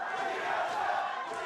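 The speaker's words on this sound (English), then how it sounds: "You can hear the crowd. I like the battling chants here." Dense crowd noise from a League of Legends LCS match arena, TSM versus FlyQuest, with rival fan sections chanting in unison and cheering, a steady roaring wall of voices throughout with no single speaker standing out.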